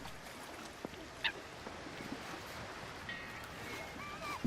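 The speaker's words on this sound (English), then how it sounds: "More seagulls." Seagulls call in the video game The Lost Crown, a few brief faint cries scattered over a steady background of wind and water noise.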